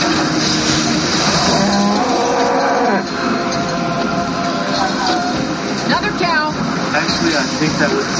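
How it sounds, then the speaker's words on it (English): Cows mooing in a dense movie soundtrack scene, their lowing calls mixed under loud music, rumble and overlapping talk, with a couple of drawn-out moos standing out midway. "Another cow. We got cows."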